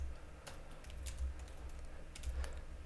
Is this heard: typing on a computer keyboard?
yes